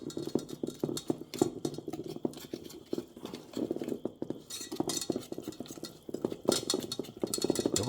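A whisk beats waffle batter in a bowl, its rapid steady clinking and scraping against the sides running continuously and close, with no talk.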